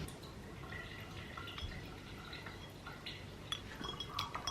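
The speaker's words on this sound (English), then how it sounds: "So I'm gonna pop these 2 in some water" Plant bulbs dropped into a container of water indoors, giving faint scattered drips, light splashes and glassy clinks over a steady low background hiss, with no voice.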